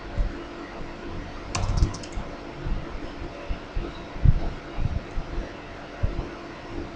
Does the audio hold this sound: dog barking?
no